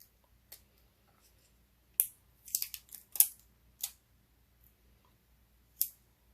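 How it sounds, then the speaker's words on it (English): Strip of tape peeled off cardstock during papercraft stamping, giving a few sharp, close crackly rips and clicks in short bursts with quiet gaps between them, no voices. "I'm going to pull this tape off"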